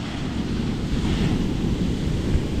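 Big ocean waves break steadily on a beach with a tide going out, a loud continuous roar of surf with wind buffeting the microphone and no voices.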